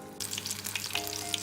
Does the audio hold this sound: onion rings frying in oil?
yes